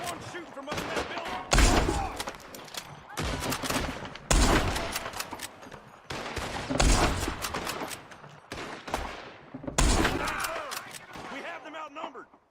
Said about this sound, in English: There's one shooting from up in that building!